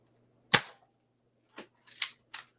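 A Nerf blaster fires once with a sharp snap, followed by a quieter series of clacks as the mechanism is cycled. Four brief mechanical clicks, close and dry, sit against silence.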